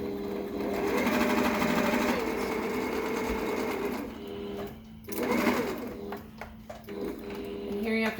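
Sewing machine with an adjustable guide foot stitching layered mask fabric, close mechanical whirring in several runs broken by pauses, with short restarts and a person's voice speaking between bursts.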